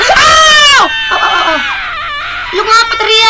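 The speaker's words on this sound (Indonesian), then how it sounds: "Lu ngapa teriak?" A person screams loudly in a short, high, wavering burst at night in a nurse's setting, followed by further rising shrieky cries near the end, with a voice talking in between.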